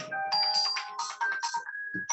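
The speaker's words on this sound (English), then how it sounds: "this phone won't stop" A phone ringtone plays as a melodic electronic tone pattern in repeated bursts, loud and close, interrupting a radio interview.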